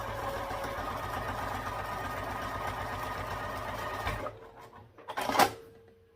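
A home sewing machine basting along the flat side of a sling with a long stitch, a steady close mechanical whir that runs about four seconds, then stops, followed by a few light clicks and a handling thump.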